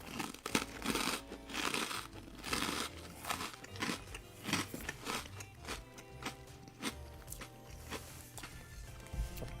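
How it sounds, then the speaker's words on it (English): A sweet-salty senbei rice cracker is bitten and chewed up close, giving a run of sharp, irregular crunches over soft background sounds. "Nice meaty crunch too. Very big crunch there."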